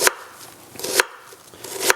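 A knife dices an onion on a cutting board, three sharp, evenly spaced chops about a second apart, close and crisp with quiet gaps between them.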